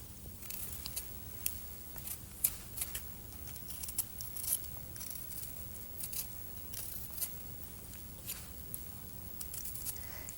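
Potatoes peeled with a sharp knife, giving a steady run of crisp, close scraping and snipping strokes over a low background hum, with no talking.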